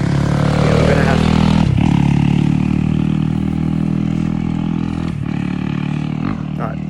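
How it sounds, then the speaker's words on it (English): A motorbike's engine drones steadily nearby, then its roar fades as the rider pulls away, with a person's voice over it. "old mate has gone now on his motorbike"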